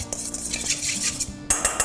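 A spoon mixes chicken marinade in a bowl, giving close, irregular clinks and scrapes of utensil against dish, with a sharper flurry of clatter near the end.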